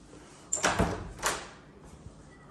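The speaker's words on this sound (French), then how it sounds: "Porte d'entrée." An apartment's front entrance door in a rental flat in Taghazout Bay, two close, sharp bangs about a second apart as it swings and shuts, then quiet room tone.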